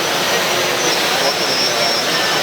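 A senseFly eXom inspection drone hovers nearby with a steady, loud whining rotor roar, under a faint voice giving flight instructions.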